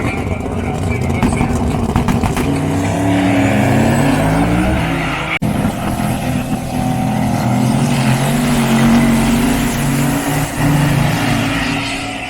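A Chevy Nova drag car roars off the line at a nighttime drag event, its engine a loud sustained howl rising and shifting pitch with a sharp break midway, commentators talking over it.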